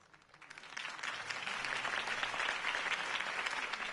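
Crowd applause swelling up after a campaign speech in the Telltale Batman video game, starting softer and building into sustained, dense clapping that holds steady to the end.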